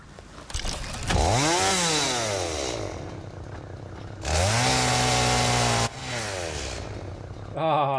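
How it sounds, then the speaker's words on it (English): A chainsaw in the video game Satisfactory revs up with rising and falling engine whine over several seconds, surging louder in a second burst, then dropping to a steady idle before revving again. "Now I also need my chainsaw."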